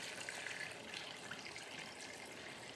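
Four cups of water pour steadily into a large Dutch oven as the base for French onion beef noodle soup, a soft continuous splashing stream at low level.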